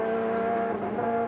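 Glenn Seaton's Ford Sierra race car at the 1990 Bathurst 1000, a steady loud engine drone with strong sustained tones that holds close and constant as the car brakes into a left-hander.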